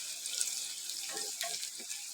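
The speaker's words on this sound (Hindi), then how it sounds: "थोड़ा सा मैं इसमें पानी ऐड करता हूँ" Water poured into a pan of finely chopped small tomatoes as they cook, a soft hissing splash over a steady sizzle, fairly faint, with no talking.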